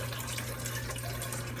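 Water trickling down inside the column of a soil-free hydroponic tower garden, a steady, soft wash of flowing water with a low hum beneath, continuous and close.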